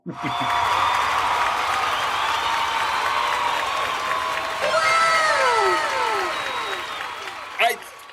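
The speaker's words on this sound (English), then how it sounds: "Round of applause." An audience applauds and cheers after a game jam result is announced, a loud sustained wash of clapping with whoops and shouts, and a host's voice speaking over it.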